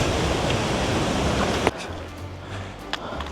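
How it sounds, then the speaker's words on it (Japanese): Waterfall beside a hiking trail at Lake O'Hara in the Canadian Rockies, a loud broadband rush of falling water that abruptly drops to a quieter, more distant roar with faint sounds on top. "この滝もこのコース途中にあるんで、ちょっと危ないんで近づかない方がいいんですが、結構大迫力よね"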